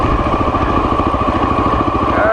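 Motorcycle engine idling close by after coming to a stop, a steady low throbbing putter that runs unbroken throughout while the rider works the gearbox toward neutral.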